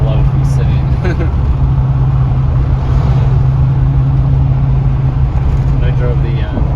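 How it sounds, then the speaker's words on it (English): A GM 6.2L truck, of the Yukon, Tahoe or Silverado type, drives on a test run after a radiator replacement, its engine rumbling continuously and close, with a voice faintly present at times. "So we decided to take it for a little test drive."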